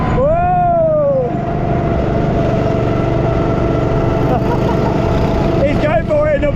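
Go-kart engines drone loudly and steadily at a Butlin's Skegness track, with a continuous close motor roar throughout and whoops and shouting voices over it.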